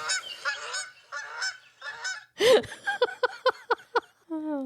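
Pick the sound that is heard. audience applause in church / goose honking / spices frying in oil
goose honking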